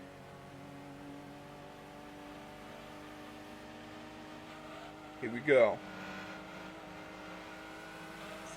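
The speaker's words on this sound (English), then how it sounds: "I just hope I don't blow up the engine of this SUV" An SUV engine in Gran Turismo 2 drones steadily at a low hum through the race, with a brief louder revving swell near the middle while someone talks over it.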